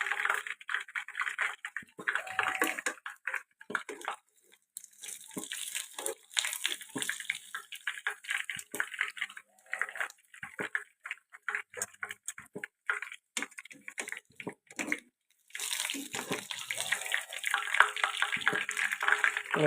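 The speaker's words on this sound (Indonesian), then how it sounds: "Kita tiriskan." Cooked food is drained under running water, a continuous splashing flow broken by brief gaps and many small ticking clatters, with no one speaking.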